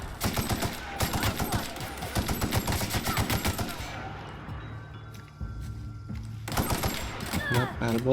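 Rapid automatic gunfire from a weapon in The Outer Worlds rattles in dense, loud bursts, breaks off into a pause, then resumes briefly near the end. Game effects sit underneath.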